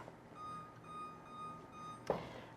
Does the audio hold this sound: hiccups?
no